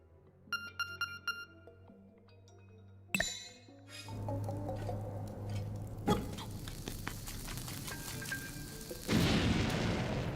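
Bomb dropped in The Legend of Zelda: Link's Awakening (2019), a few soft game menu chimes, then a sharp burst and a deep boom with a lingering rumble, another heavy thud, then a crumbling, hissing aftermath.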